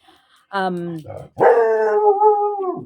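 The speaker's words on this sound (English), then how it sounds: "apologies, my dog is going through something" A pet dog lets out a near, loud yip, then a long sustained howl that holds a wavering pitch for about a second and a half before it breaks off indoors.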